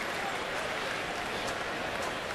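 A baseball crowd at Boston at Baltimore, May 2012, applauds the manager's birthday, a dense steady wash of distant clapping that holds evenly throughout.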